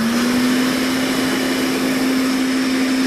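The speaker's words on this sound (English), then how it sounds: "This is the space age Hoover Constellation. Floats on its cushion of air." A space-age Hoover Constellation vacuum cleaner that floats on a cushion of air runs loud and close with a steady whining motor hum and rushing airflow, unbroken throughout with no voices.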